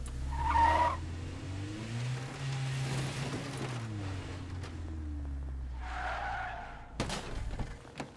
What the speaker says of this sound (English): So we're gonna park my car over here.